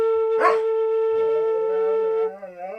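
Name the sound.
dog howling and barking in a played clip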